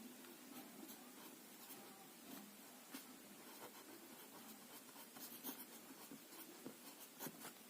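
Soft, steady pen-on-paper scratching runs through a quiet room, faint and continuous with small stroke accents, as chemistry names are written out; no one speaks.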